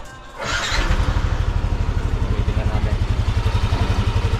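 A Yamaha NMAX V1 scooter starts with a short crank, then settles into a steady, close, rhythmic idle thump, with brief speech at the start.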